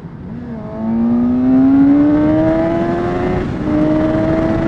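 Suzuki GSX-S750 sports bike engine droning steadily while riding, its pitch climbing smoothly through a gear, dipping briefly at a shift and then pulling on again, loud and close under rushing wind.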